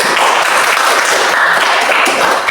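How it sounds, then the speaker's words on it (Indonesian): Audience applause at a classroom teaching demonstration in Indonesia, steady dense clapping that fills the whole stretch at full loudness without a break. "Coba diberikan aplaus untuk."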